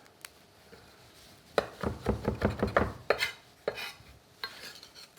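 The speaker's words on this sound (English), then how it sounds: "And then rosemary. And we can just chop this up a little bit." Fresh rosemary is chopped on a cutting board with a knife in a rapid run of about a dozen crisp thuds, followed by a few scattered single taps.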